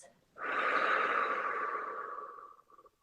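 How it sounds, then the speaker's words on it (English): A single deep breath drawn in through the nose and let out through the mouth, heard as one long airy rush that swells quickly and fades slowly, close and alone. "take a deep breath in through their nose. Exhale out through your mouth."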